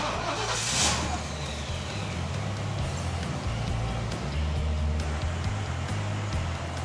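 A Lincoln Continental 460 V8 idles and rumbles steadily up close, a low, even engine note that swells slightly near the end, with no talking over it.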